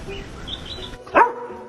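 A dog gives a single loud, close bark that stands out over quiet background noise.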